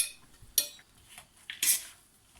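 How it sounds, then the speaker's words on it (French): Carrot, potatoes, sweet potato and onions tossed together in a salad bowl, giving a few sparse clinks and scrapes of a utensil against the bowl, fairly quiet with pauses between strokes. "Alors là on mélange tous ces éléments avant d'y intégrer donc l'assaisonnement et le reste."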